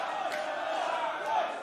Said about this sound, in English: and this crowd are loving it